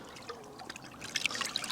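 Lake water trickling and splashing softly as a catfish slips back in, a quiet, brief liquid sound growing slightly louder at the end, with no voices.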